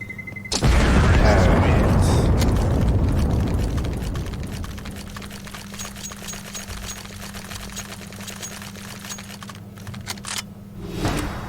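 A loud boom bursts out suddenly in the video game CS:GO and rumbles away over several seconds, followed by scattered clicks and a low steady hum.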